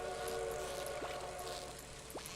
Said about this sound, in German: Ein Zug fährt durch.